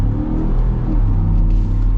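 A 2025 Ford F-150 Tremor pickup with the 5.0 V8 engine accelerates with a steady, loud, deep rumble. The sound is heard close and constant throughout.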